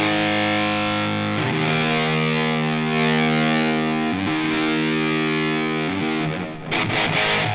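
Electric guitar driven through a Positive Grid BIAS Distortion pedal on a very fuzzy, almost blown-speaker setting, sustained thick chords changing a few times, loud and alone.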